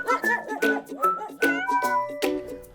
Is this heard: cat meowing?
yes